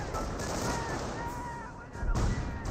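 Gunfire from a Company of Heroes video game battle, a steady rattle of distant shots and rumbling combat noise, with a heavier thump near the end while a commentator talks over it.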